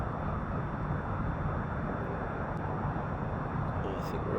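A steady, broadband engine and wind roar from an aircraft landing in the X-Plane 11 flight simulator. It runs continuously at an even loudness throughout, with no breaks.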